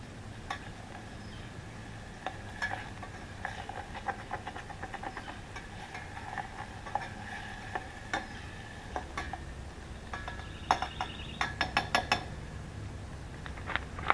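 Vegetables stirred in a pan over a camp-style cook setup for beans, with soft sizzling, scraping and light clinks of the utensil against the pan, steady and close.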